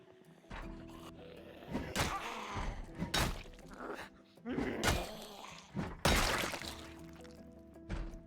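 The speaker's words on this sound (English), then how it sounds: "What's banging on the door?" In a zombie video game, something pounds on a door in a string of heavy thuds and slams at irregular intervals, loud against a quiet background, with a player talking between the blows.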